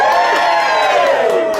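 Café radio show audience at a live broadcast screaming and cheering together, a loud sustained crowd roar with whoops and shouts throughout.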